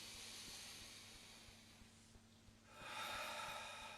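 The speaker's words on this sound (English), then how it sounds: "Take a deep breath in." One close, faint breath is drawn in deeply through the nose near the end, a soft rising hiss after a quiet pause, with no talking.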